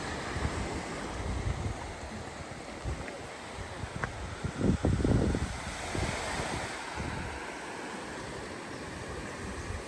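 Ocean waves at Mauna Kea Beach, Hawaii, a continuous wash of surf with a louder breaking swell near the middle, mixed with wind rumble buffeting the microphone.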